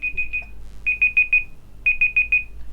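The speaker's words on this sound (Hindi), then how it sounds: "इस तरह से आपका स्पीकर जो है बीप करना शुरू हो जाएगा, एक अलार्म की तरह।" Chrome's built-in timer alarm beeping through a computer speaker: three bursts of four to five rapid, bright electronic beeps each, clear and steady with short gaps, and no voices.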